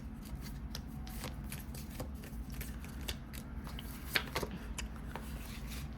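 Mama Moon oracle cards are handled and shuffled close by, soft papery riffles and light flicks repeating over a steady low hum, with a sharper snap partway through.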